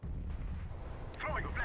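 Grenade blast in the Counter-Strike: Global Offensive video game, a muffled low rumbling boom followed by a sharper crackling burst near the end, with game voices and sounds faintly in the background.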